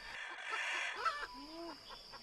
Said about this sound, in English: The only livestock that could last in the forest was chicken